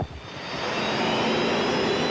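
Unlimited hydroplane racing boat U7 pulling away from the dock and rising onto plane, a loud, steady turbine roar building quickly and holding strong, heard alone.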